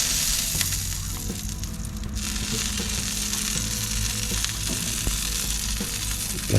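Pork backfat sizzles and crackles steadily in its own rendered fat, with continuous popping and occasional stirring scrapes, close and fairly loud.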